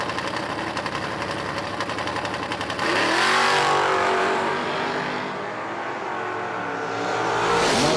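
A car and a motorcycle launch side by side in a drag race at a strip, engines droning at idle before a sudden loud surge of acceleration, the revs climbing and holding, then rising again near the end.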